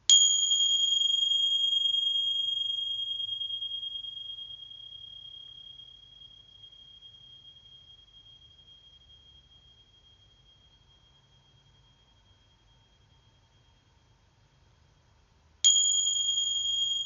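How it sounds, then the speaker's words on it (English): A meditation bell tings once with a clear, pure ring that slowly fades over about fifteen seconds into near silence, then strikes a second time, loud and close, with no talking. "In a moment or two you'll hear the tings or the bell."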